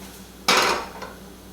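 An omelette flipped in a pan gives one sharp metallic clatter followed by a brief sizzling wash that fades, with a faint second clink, close and alone.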